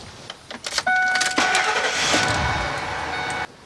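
A 2001 Ford F-series pickup with a 5.4L engine, fitted with a new starter and solenoid, cranks briefly and catches, then settles into a steady, fairly loud idle before cutting off; no one speaks.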